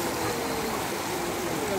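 Water from a leaking tank rushes steadily and loudly without a break, a continuous broadband stream close by in a flood-affected area.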